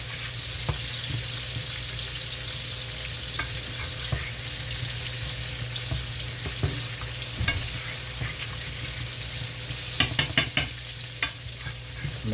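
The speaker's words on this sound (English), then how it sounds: "We're gonna cook these for about 5 minutes until they get, a little soft, a little brown." Onions frying in oil in a pan, a steady dense sizzle with occasional stirring scrapes and a few clinks near the end.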